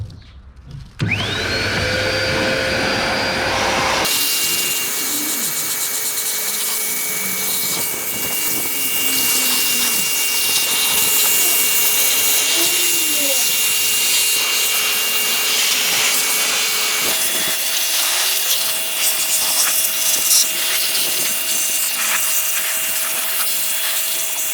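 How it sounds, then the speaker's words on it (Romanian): A costly hair dryer runs steadily, blowing hot air while drying out a car's interior, a continuous whining drone held close for over twenty seconds with a pitch shift partway through. "De-aia am preferat să vină Stelian cu fenul ăsta scump, astfel încât să uscăm cum trebuie peste tot."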